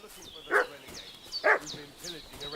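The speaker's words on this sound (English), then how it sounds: "What's that dog making such a fuss about?" A dog barks and yips sharply twice, then more softly, in a medieval village setting from the video game Kingdom Come: Deliverance II, with faint ambient sounds around it.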